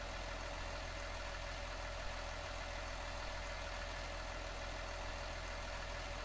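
A Farming Simulator 19 tractor hauls John Deere equipment, its engine holding an unbroken low rumble at even loudness from start to finish. The drone is heard on its own, with no speech.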